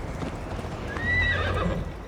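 A horse gallops in the video game Assassin's Creed Valhalla, its hooves beating in a fast rhythmic clip-clop as it gives a clear whinny midway, close and alone without speech.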